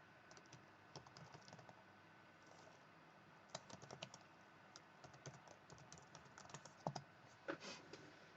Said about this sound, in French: Je vais taper masse de Jupiter.